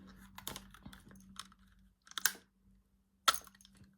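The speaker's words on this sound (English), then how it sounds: "I was trying to take the lid off with my teeth so it didn't come up." Someone tugs the lid off a roll of red runner tape with their teeth: a few sharp clicks and crackling snaps separated by quiet gaps, close and fairly faint.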